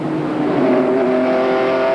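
Race cars in a 1994 NASCAR Busch Grand National North Series event roar steadily past on the oval, a sustained engine drone with rising pitch and no talk over it.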